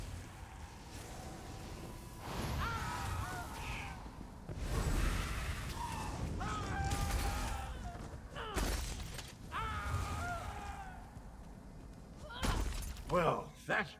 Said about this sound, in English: Try smashing these glass baubles.